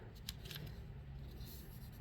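Four stacked layers of quilting fabric being cut, a steady close-up slicing scrape that runs unbroken for about two seconds with no talking.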